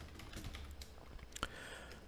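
Someone typing a prompt on a computer keyboard, a stream of light, close key clicks over a faint room hum, with no speech.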